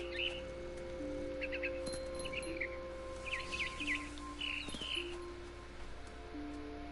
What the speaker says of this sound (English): This bird is a problem!